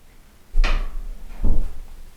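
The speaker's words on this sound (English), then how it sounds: "now, as you can see, the door closes easily" An interior door swings shut after its hinges were adjusted for sticking: two distinct knocks about a second apart, the first a sharp latch click, the second a duller thud, each fairly loud and close against quiet room tone.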